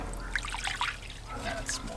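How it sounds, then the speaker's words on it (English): Water pours into a smoker's water bowl in short trickling splashes that rise and fall, close by and fairly faint, over a low background hum. "And then also fill up my water bowl."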